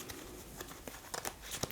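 Marvel Champions playing cards are handled and shuffled back into a deck, giving faint papery crinkles and quick flicking rustles over a short quiet stretch.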